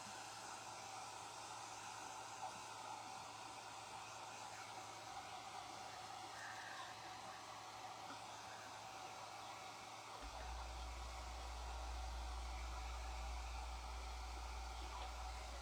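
A hair dryer blows steadily to dry layered craft pieces, a constant whooshing hiss that holds for the whole stretch and grows a little fuller near the end, with no voices over it.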